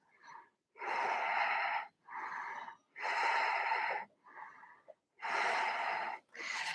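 Deep yogic breathing during a vinyasa flow: slow, airy inhales and exhales alternate in a steady rhythm, about six breaths, close and clear with quiet pauses between.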